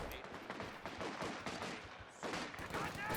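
Machine gun fire in a Company of Heroes 2 2v2 battle: dense, continuous rattling bursts of shots with no gaps, mixed with other battlefield gunfire at a moderate level.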